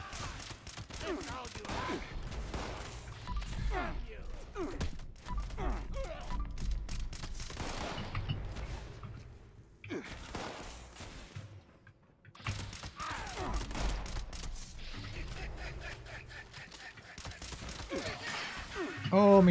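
Fallout 76 gunfire rattles through repeated rapid bursts with mechanical clicks and clatter between them, mixed with speech and brief lulls.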